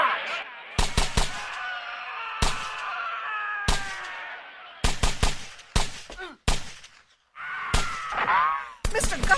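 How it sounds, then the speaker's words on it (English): Gunshots fired by the sheriff's men in a radio drama: a rapid series of loud, sharp cracks, some in quick pairs and clusters, separated by short gaps, with shouting voices in between. "The sheriff's men are firing, and I think they're using blanks to scare the miners."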